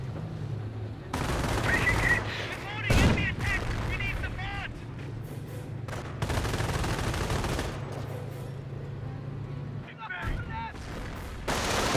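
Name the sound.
gunfire and MG42 machine gun in video game Company of Heroes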